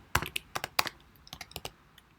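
Search words for Hartlepool roofing contractors typed on a computer keyboard: a burst of sharp, close key clicks in an irregular rhythm, with a pause midway before several more quick taps, no talking.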